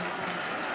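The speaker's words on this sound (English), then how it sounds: "Crowd trying to get in this game and help this offense get in the end zone" Football stadium crowd cheering during a Navy vs East Carolina game, a dense, steady roar of many voices filling the moment, loud and continuous.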